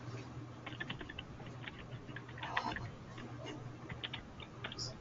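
Quiet computer keyboard typing in an indoor room, a run of light, irregular key clicks going on steadily under a low background hum.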